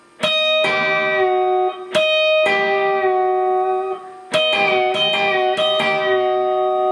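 An electric guitar note struck at the 11th fret of the already-bent G string, its pitch sliding as the bend is released, repeated several times with sustained ringing tones and no talking.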